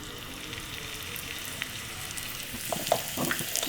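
Ghee melted in a pan with spices fried in it for a home-cooked Indian meal, a steady close sizzle with a few louder crackles and pops toward the end, no talking.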